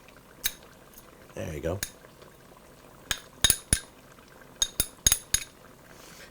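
Ginger root is added to a Thai chicken curry in a pan: sharp metal clinks and scrapes of a utensil against cookware come in irregular bursts, with a brief soft stirring rustle, while a person speaks briefly.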